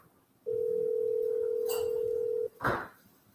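A telephone tone holds steady for about two seconds on a call to a police department line, followed by a short click and a soft thump as the call goes through, with no speech.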